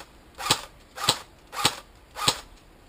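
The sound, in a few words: airsoft AK-47 Spetsnaz firing semi-auto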